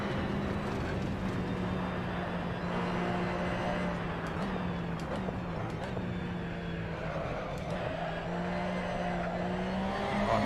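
Race car in iRacing on the LA Canyons track, a steady engine drone holding a sustained pitch throughout, with faint tire noise and occasional higher whine, continuous and close.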